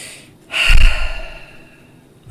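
A single deep breath, drawn in quickly and then let out in a long, soft, airy exhale that fades away, close and alone with no talking.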